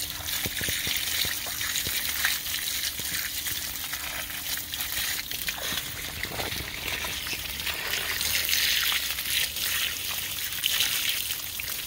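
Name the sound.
water running while washing off a dug-up root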